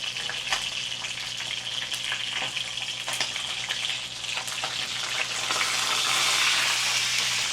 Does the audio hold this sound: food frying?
yes